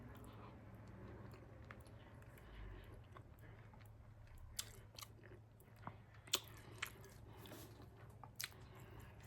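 Close chewing and occasional crisp bites of beef rib and black bean chili with sweet potato cornbread, soft mouth sounds with a few sharp crunchy clicks over a low steady hum, no talking.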